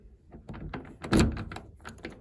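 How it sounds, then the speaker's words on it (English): A key worked in a household door lock, heard as a series of close metallic clicks and rattles building to a louder clunk as the bolt turns, then a few lighter taps. "let's head over and unlock the door"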